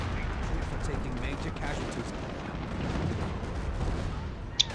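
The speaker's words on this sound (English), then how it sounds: "Here comes a new creeping barrage." Rumbling artillery fire from a creeping barrage in the video game Company of Heroes, heard as a continuous low roar of distant blasts with a sharp crack near the end, while a voice talks faintly underneath.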